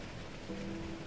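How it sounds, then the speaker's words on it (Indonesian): Steady rain falling on a cold night, a dense, even hiss of drops at moderate volume, with a faint low tonal hum joining partway through. "Perjalananku terasa dingin dan sunyi, hanya suara hujan saja yang menemani"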